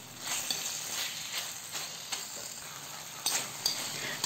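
Pork and snap peas sizzle in a hot pan while being stirred, a steady frying hiss broken by soft scrapes and light utensil clinks, close and with no voices.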